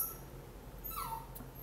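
A puppy lets out one faint, high, rising-and-falling whimper over a quiet room background, with no speech.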